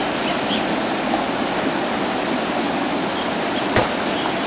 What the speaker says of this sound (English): There you can see water gushing out of